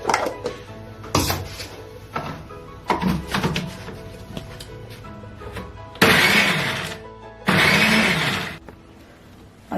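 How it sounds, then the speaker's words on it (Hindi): A blender grinding cooked dates into a chutney paste: a few short clattering knocks, then two loud, sustained motor bursts of whirring and grinding that cut off abruptly. "ठंडा होने के बाद इसे हम पीस लेंगे।"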